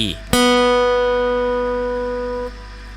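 A single guitar B string, the second string in standard tuning, is plucked and rings out clearly, sustaining with rich overtones before being damped after a couple of seconds.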